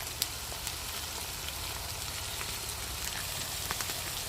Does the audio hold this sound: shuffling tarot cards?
no